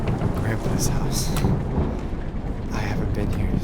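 Thunderstorm ambience in the video game Madison, with a steady low rumble of rain and distant thunder filling the whole stretch, plus brief brighter crackles near the start and end.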